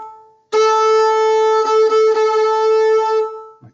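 A clean fiddle D note played with the fourth finger rings out clear and sustained for about three seconds, with a few light bow changes along the way, then fades out; no talking.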